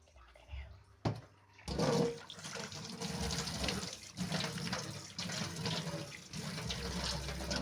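Tap water runs steadily into a bathroom sink while someone washes their face, a continuous close splashing with a few brief knocks and a faint voice near the start.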